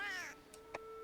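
A waiter cat in Monster Hunter 2 on the PS2 gives a short, clear meow with a falling pitch, followed by two faint clicks against a steady electronic tone, with no talking.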